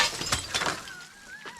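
Glass is knocked out of a bungalow porch during renovation, with several sharp breaking and shattering crashes in quick succession followed by a thin tinkle of falling shards, moderately loud and close.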